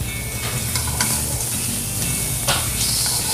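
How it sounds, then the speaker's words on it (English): Shrimp fry in a hot pan in a restaurant kitchen, giving a loud, steady, close sizzle with a few stirring scrapes and no talking. "We're gonna just cook the shrimp just a little bit till they start turning pink"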